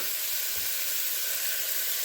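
Strips of bacon sizzling in a pan as they render down until crisp, for Hoppin' John: a steady, close, hissing crackle with no talking.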